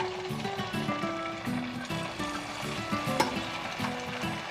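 Chakli dough frying in hot oil in a kadhai over medium flame, a steady bubbling sizzle with a sharp spatter or tap partway through, close and continuous, no speech.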